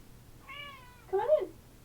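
A house cat meows twice in quick succession nearby, a thin drawn-out mew followed by a louder, sharper one, in an otherwise quiet room.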